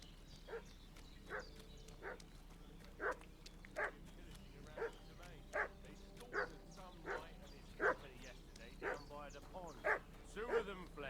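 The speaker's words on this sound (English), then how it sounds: "What's that dog making such a fuss about?" Dog in Kingdom Come: Deliverance II barking repeatedly at a steady rhythm, about a dozen sharp barks spaced roughly a second apart, moderately distant, over a low ambient game background.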